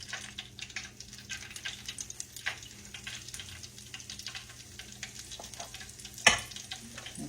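Hush puppy batter sizzling and frying in hot oil, a steady crackling bed with scattered pops and one louder splash-like burst near the end, close and alone.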